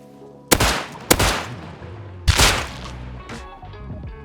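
Three sharp revolver gunshots ring out in the video game Rust, each loud crack trailing into a brief echo, followed by a fainter fourth report, with no talking.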